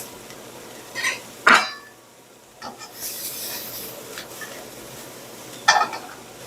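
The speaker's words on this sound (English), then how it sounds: "Just keep everything moving in the pan so it doesn't stick and burn" A utensil stirs garlic and mushrooms in a frying pan, giving a few scraping strokes and a sizzling rasp in separate bursts against quiet gaps, with no talk.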